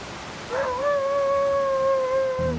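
A wolf in a video game howls once, a long steady sustained note that rises briefly then holds, loud and alone against a quiet backdrop, ending as a low thud begins.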